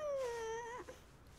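A cartoon kitten gives one drawn-out, falling mew, close and clear, with a small trailing chirp at the end.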